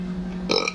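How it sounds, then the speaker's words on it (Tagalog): A single short burp from someone eating Lucky Me Pancit Canton and donuts, close and fairly loud, rumbling briefly over a low steady hum. "Excuse me, nag-burp po."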